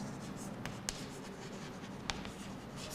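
Chalk or marker writing on a classroom board during a physics lesson, soft continuous scratching strokes with a couple of sharp taps against the surface.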